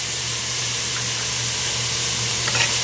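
Garlic fries in hot oil in a pan for a curry of long beans, giving a loud, steady, close sizzle that holds evenly throughout.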